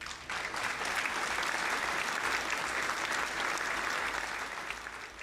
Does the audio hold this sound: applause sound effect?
yes